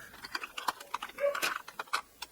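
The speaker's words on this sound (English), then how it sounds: "I'm going to actually use tape runner" A tape runner rolls adhesive onto a handmade card, giving a run of quick, light clicks and ticks close by, with short bursts and soft scraping and no voices.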